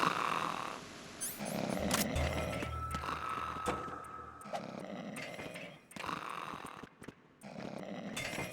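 Guard snoring in Metal Gear Solid 2, loud rasping snores with gaps between breaths, mixed with clicks and short game effects.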